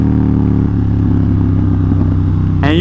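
A Ducati XDiavel cruiser motorcycle is ridden with a steady, loud, close engine drone that holds even throughout, with a brief sharper rise in pitch at the very end.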